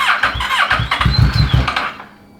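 A 600cc crosskart engine cranks and sputters, trying to catch in a string of loud, close, uneven bursts over about two seconds before dying away.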